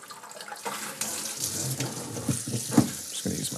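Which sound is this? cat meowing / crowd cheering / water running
water running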